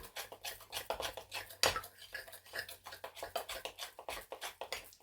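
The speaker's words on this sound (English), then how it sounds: "And you mix it up and it becomes your chocolate." A spoon stirs cocoa into chocolate icing in a bowl, giving quick repeated scraping and tapping strokes in a fast rhythm at close range, with one sharper knock partway through.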